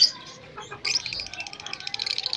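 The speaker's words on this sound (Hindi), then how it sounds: "ऐसे में परिंदों का चहचहाना बहुत ही खूबसूरत और बहुत ही प्यारा लगता है।" Pet lovebirds, small green, blue and purple parrots, chirping in the evening: sharp, bright tweets come in quick bursts, with a brief pause before a denser run of repeated calls near the microphone.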